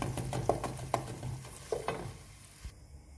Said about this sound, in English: I'm just going to fry this for a few minutes until they go golden brown